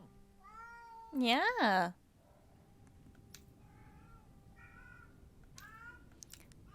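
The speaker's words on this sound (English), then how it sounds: "Yeah, you're just like a vocal meower." A female cat in heat lets out one loud, wavering, drawn-out meow, then several softer short meows follow over a quiet room, with a person briefly speaking.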